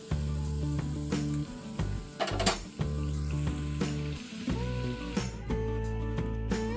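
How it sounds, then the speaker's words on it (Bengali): Sesame naru sweets fry in hot oil with a steady crackling sizzle, broken by clinks and scraping of a utensil against the pan, close and continuous. "নাড়ুগুলো কিন্তু ভাজা হয়ে গেছে।"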